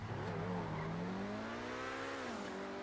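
An Obey 10F, a rear-wheel-drive sports car styled on the Audi R8, drifts in Grand Theft Auto V with a loud, steady engine drone whose pitch rises and dips slightly. Tire squeal carries through the drift with no talking.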